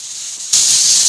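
Beef mince dropped into a hot pan, a faint background hiss that jumps abruptly into a loud, steady, close sizzle which holds without fading.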